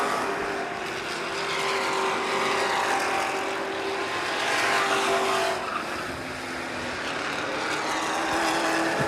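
Dirt track race cars roaring down the backstretch at a weekly dirt series championship race, a loud continuous engine drone that swells and fades as the pack passes, with no talk.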